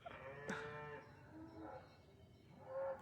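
Cows mooing in a short sequence of low calls, one rising sharply at the start and others fainter and more distant, followed by a louder moo at the end, with no talking.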